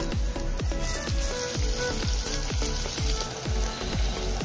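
Garlic and onion sizzle steadily in hot oil, a dense continuous frying hiss punctuated by regular rhythmic stirring or scraping strokes, close and fairly loud throughout with no talking.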